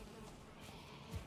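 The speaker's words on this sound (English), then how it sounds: "I hear bees, which means honey." Bees buzz faintly in the Valheim video game, a quiet, steady drone close to the background hiss with no talking over it.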